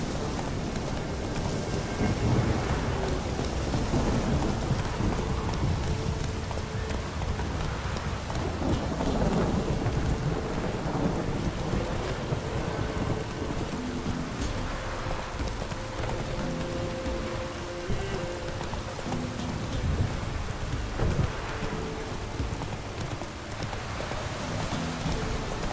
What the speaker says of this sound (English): Lightning strike.